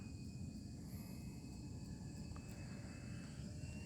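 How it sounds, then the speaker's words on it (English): An FMS Ranger RTF model airplane with an 850 mm wingspan flies some distance away, heard as a faint, steady drone with a thin motor whine over constant low rumbling background noise. "Guys, I must say, this thing is actually a great flying plane."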